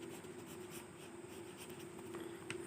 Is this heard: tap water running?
no